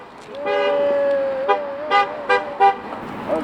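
Car horn sounding at a street protest outside a St. Louis radio station, one long sustained blare followed by several short toots, loud and close with outdoor noise around.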